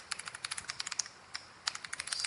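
Close computer keyboard typing during coding, heard as a quick run of crisp key clicks in uneven bursts, followed by a short pause and then another burst, with no speech.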